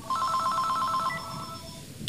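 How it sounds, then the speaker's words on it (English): A telephone rings indoors with a steady electronic trill, loud and near, holding for about a second and then fading while faint room noise carries on. "I gotta answer the phone now"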